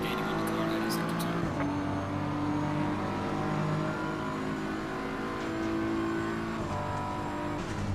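Race car engines roar continuously in Assetto Corsa Competizione, rising and falling through gear shifts as the cars run close together in a lobby race, loud and steady with a voice talking over them.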